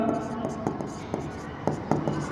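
A pen writes by hand while a commerce problem on accounts is worked out, giving a series of short scratching strokes in quick bursts, close and soft, with a voice speaking faintly in between.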